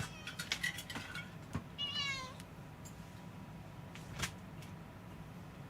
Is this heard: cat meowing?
yes